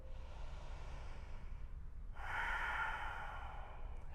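Deep, slow breathing during a yoga stretch, a soft airy inhale followed by a stronger, fuller exhale heard close up.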